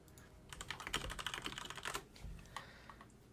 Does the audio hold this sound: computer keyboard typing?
yes